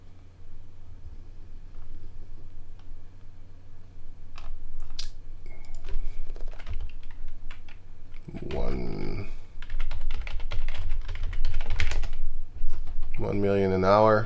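Rapid clicks of a computer keyboard as a search query is typed, scattered keystrokes in quick bursts, fairly close, with a voice talking over parts of it.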